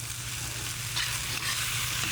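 Fried rice with onion, celery, mushrooms and soy sauce frying in a pan, a steady close sizzle with stirring scrapes over a low electrical hum, no talking.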